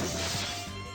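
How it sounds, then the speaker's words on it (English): A pane of glass shatters in a video game as a body slams into it, a loud, close crash that bursts out and then fades with a bright, ringing tail over about a second. "He slammed bodily into the glass and it shattered"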